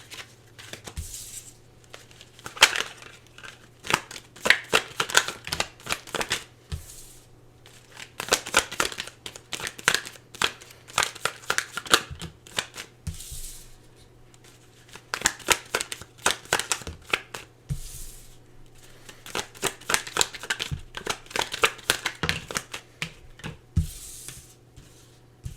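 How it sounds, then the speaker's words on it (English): Tarot cards are shuffled and drawn in repeated bursts of riffling and sliding, separated by short pauses, close and crisp over a low steady hum. "Let's give me a minute to draw some cards here"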